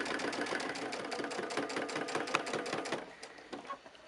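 A sewing machine stitches binding around the curved corner of a quilt with a steady, rapid mechanical whir that slows and stutters near the end, close and alone.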